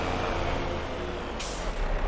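A truck with air brakes in Farming Simulator 25 rumbles steadily, then gives a single sharp hiss of released air near the end, close and fairly loud.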